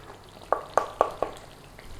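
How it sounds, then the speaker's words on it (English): Madras spice paste thickened with flour bubbles in a pan, giving four evenly spaced thick pops in quick succession over a quiet background, with no talking. "Now the reason for getting it to bubbling is we want to cook the flour out in the spice mixture."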